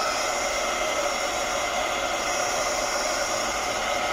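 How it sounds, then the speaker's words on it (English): A heat gun blows steadily at close range over watercolor paint during a mixed-media craft session, a continuous even hiss and whoosh of hot air with no pauses. "So I'm going to give it a little hit with the heat gun."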